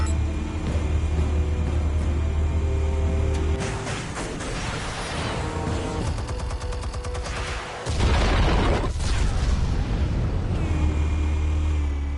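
Explosives detonating in a Batman video game, a series of heavy booms and rumbling blasts with a sharp loud burst near the middle, set over continuous game music and ambience.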